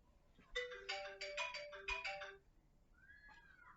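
A phone ringtone plays a bright melodic jingle of repeated tones for about two seconds, clear and close, followed by a shorter rising tone after a brief pause.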